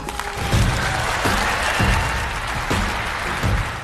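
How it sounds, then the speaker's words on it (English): Dense audience applause, a continuous crowd clapping at moderate loudness with no talk over it. "Huge applause to Dr. Robert Malone."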